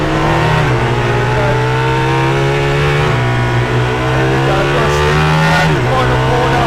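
An Aston Martin Valkyrie hypercar brakes hard and turns in on a race track, its engine note steady and loud before dropping in pitch, with faint tyre noise as it corners, close and continuous throughout.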